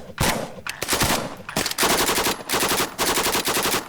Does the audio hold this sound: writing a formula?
no